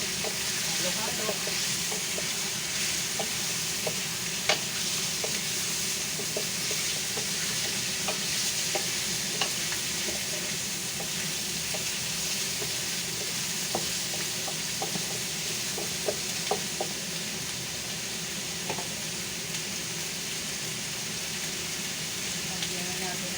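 Chicken feet, called adidas, being stirred as they fry in a pan, with a steady sizzle and hiss and scattered scraping clicks of the utensil continuing throughout at close range.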